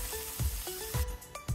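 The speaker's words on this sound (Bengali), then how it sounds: "এভাবে সবগুলো মাছ আমি ভেজে নেব।" Pieces of mixed fish fry in hot oil in a pan with a close, constant sizzle, broken by several rhythmic low thumps and clinks of a utensil moving the pieces, with no talking.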